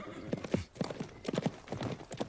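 Horse hooves clip-clop in a quick, steady rhythm as a rider gallops off in a Joseon-era drama scene, the beats loud and close with a faint whinny among them.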